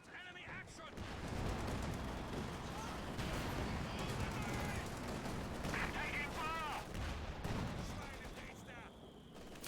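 Continuous gunfire and mortar fire in a Company of Heroes style strategy game battle, with an MG42 under mortar bombardment, a dense, loud din of shots and blasts throughout with a voice talking over it.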